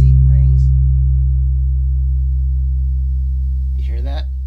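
A single bass guitar C note rings through an Epifani Piccolo head and D.I.S.T. 112 speaker cabinet, a steady low sustained tone that slowly decays, with a brief voice at the start and end.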